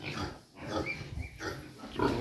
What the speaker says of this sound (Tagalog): Medyo lumalaki na yung ating mga natirang biik.